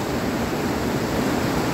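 Steady roar of a waterfall plunging into a deep pool at a trout fishing spot in the mountains, a continuous broadband rush of falling water, close and loud throughout.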